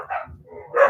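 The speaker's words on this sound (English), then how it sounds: "Well, the dogs are all barking out there." Dogs bark outside: a couple of short muffled barks about a second apart, moderately close, with no speech over them.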